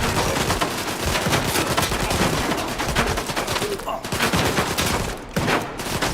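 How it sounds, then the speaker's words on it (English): Sustained gunfire in the video game S.T.A.L.K.E.R. 2, dense bursts of automatic shots crackling almost without pause, loud and near, with brief gaps late on. "Who the hell's shooting at me?"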